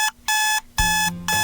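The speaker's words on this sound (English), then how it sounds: "Alarm on Sunday, why am I like this?" Alarm clock beeping in loud, steady bursts with short gaps between them, close and alone with no voices.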